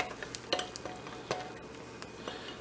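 Eggs scrambling in a moderately hot pan for chicken fried rice give a faint, soft sizzle, broken by light scrapes and taps of stirring.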